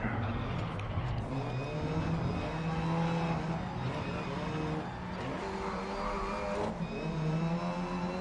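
Race cars roar around a GRID Legends circuit, engines droning and shifting pitch as they accelerate and brake close together, a steady loud whine with tire noise and an occasional voice over the top.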